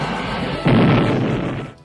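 A toy Fathom Fan fires its pontoon missiles in one sudden loud burst that rings on and fades over about a second, with no talk around it.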